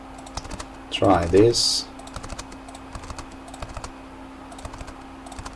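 Computer keyboard typing, close and steady, with quick irregular key clicks throughout and a short burst of speech partway through.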